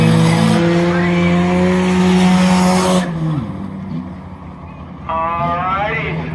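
Race cars at M-40 Speedway roar through the turns during a Night of Destruction program, loud engines whining and fading, then another car swells in, with an announcer talking over the racing.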